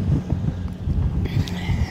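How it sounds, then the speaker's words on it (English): Cold wind blowing outdoors on a frozen farm, a steady low rumble buffeting the microphone throughout, loud and close. "Oh, the wind is cold"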